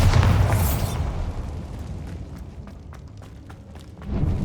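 A Bombarda blast spell in Hogwarts Legacy goes off as a loud, deep, booming explosion with a rumbling tail. Debris crackles and patters as it fades, then a second low thump swells at the end.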